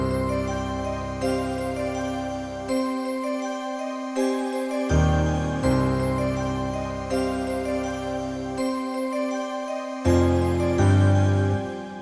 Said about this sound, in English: Next, I went into Keyscape right here, used the LA Custom C7 Watch preset